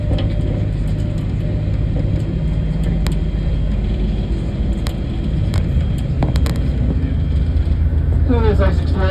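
Ice Explorer glacier vehicle driving on the Athabasca Glacier in the Columbia Icefield, a steady loud low engine rumble throughout with a voice talking faintly near the end.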